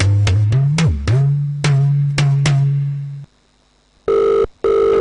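A telephone rings in several quick electronic bursts followed by a steady tone, then two longer beeping rings after a brief silence, loud and close with no talk.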